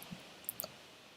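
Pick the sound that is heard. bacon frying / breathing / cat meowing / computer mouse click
computer mouse click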